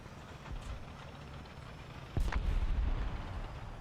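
Tank cannon fire in a tank video game: one heavy, sharp cannon shot cracks out midway and is followed by a lingering low rumble, with a softer distant thud earlier amid quiet background ambience.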